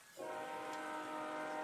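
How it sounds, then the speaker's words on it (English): A mighty train horn used as an effect in an audio story blasts in after a brief quiet moment and holds as a loud, steady, multi-tone wail to the end. "he is cut off by the mighty train horn"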